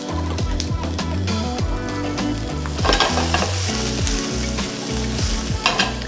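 Garlic added to peppers and spring onions frying in a pan, a loud, close, continuous sizzle with repeated stirring and scraping throughout.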